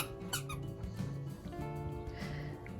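A dog's new squeaky toy squeaks in a rapid stream of high, rubbery squeals, close and continuous, with background noise underneath.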